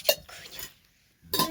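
Dishes, pots and pans being washed in a home kitchen, with a few close clinks and scrapes of metal and cutlery, a quiet pause, then a louder clatter at the end.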